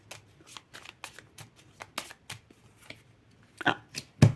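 Tarot cards shuffled by hand, a run of quick, crisp riffling and tapping bursts, close and quiet, ending in a few louder slaps as the deck is squared.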